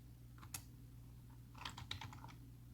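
A few sparse, quiet keystrokes on a computer keyboard while entering special characters in Excel: two isolated clicks, then a quick cluster of taps, over faint background hum.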